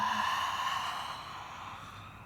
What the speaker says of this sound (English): Open mouth, exhale.